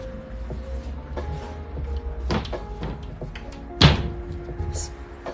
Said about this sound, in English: Slamming doors in here.